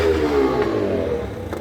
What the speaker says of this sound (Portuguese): Eita, a moto está atrapalhando.